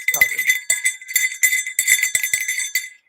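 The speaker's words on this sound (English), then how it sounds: "Here's a bear bell." A bear bell, the kind wrapped on a mountain bike handlebar, jingles in bright, uneven bursts as it is shaken, close and clear for about three seconds before stopping.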